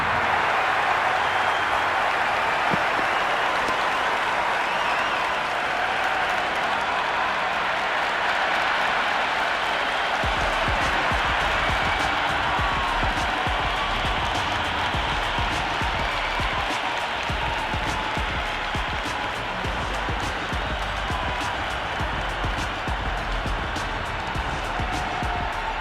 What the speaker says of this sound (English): the crowd have joined the party. It's pretty noisy at the ground.